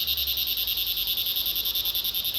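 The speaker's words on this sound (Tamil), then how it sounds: "அந்த பூச்சிங்க கத்துற சத்தம்லாம் கேக்குதா?" Insects call in a dense, steady pulsing chorus by a waterfall trail in Vattavada, Kerala, a shrill rhythmic trill repeating rapidly and evenly over a faint low rumble, with no voices.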